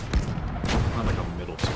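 Gunfire in the WWII game Call to Arms - Gates of Hell, Finland campaign on the Eastern Front: a few sharp shots over a dense battle din, with a loud crack near the start and another near the end.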